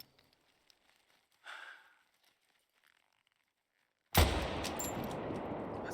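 A rifle gunshot in theHunter: Call of the Wild on the Emerald Coast map cracks out loud and sudden near the end, then leaves a sustained broadband rumble. Before it come quiet breathing and a brief soft rustle, with no talking.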